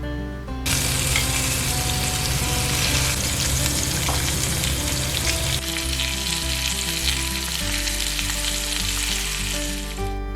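Loud, steady sizzling of thick lamb chops frying in a hot oiled pan, starting abruptly and crackling continuously throughout.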